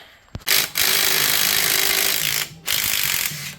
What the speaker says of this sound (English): grind that back as far as we can